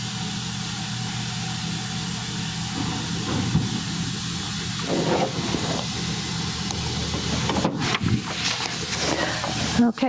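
Steam vents from a pressure canner with a continuous hiss under a steady background rumble, with some knocks and brief clatter around it, and talk may be present.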